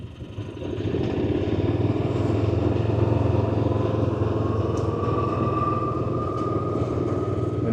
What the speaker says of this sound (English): You see, at the faster, I think you get that motor sound clearly compared to electric.